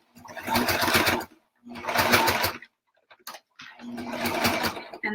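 A sewing machine zigzag-stitches along rickrack trim on a burp cloth in three distinct bursts of rapid, buzzing needle action, separated by short pauses.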